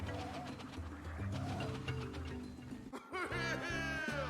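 Cartoonish bird calls from the Donkey Kong Country: Tropical Freeze game, a run of short cooing and squawking notes over game music, with a brief dropout before a brighter, louder burst of bird sounds near the end.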